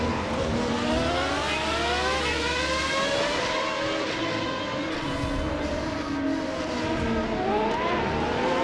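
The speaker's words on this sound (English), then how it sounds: "Get some more cars out of the pits." Several race cars pull out of the pits in an F1 racing game at Spa, their engines droning and shifting pitch in overlapping layers, a steady loud mechanical whine with no talking.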